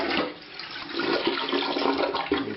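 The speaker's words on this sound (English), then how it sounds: "And so we'll just go ahead and flush this." A toilet, just reinstalled on a new wax ring, flushes with a steady, close rushing of water that carries on throughout.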